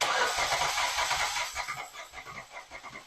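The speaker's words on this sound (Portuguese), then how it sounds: "Miguel tá lá dentro do carro, vou pedir para ele dar a partida" A car engine cranked by its starter with the accelerator floored during a compression test on an engine suspected of adulterated fuel, a steady rhythmic chugging that fades into regular pulsing beats.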